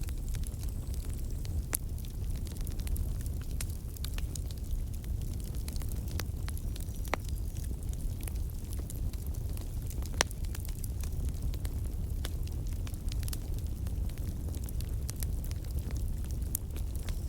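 Wood fire burning under tandoori rabbit being roasted outdoors, a low steady rumble dotted with frequent sharp crackles and pops, close and unbroken for the whole stretch.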